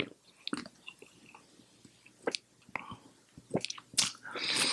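Crunchy bites into a mango-flavored snack, followed by several sharp, close crunches and wet chewing in an uneven rhythm, with quiet pauses between bites and a louder, dense crunching burst at the end.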